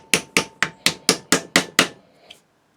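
Eight evenly spaced sharp hammer strikes drive an old screwdriver used as a chisel to cut a slot in a sword guard, each blow ringing briefly, followed by one lighter tap after a pause.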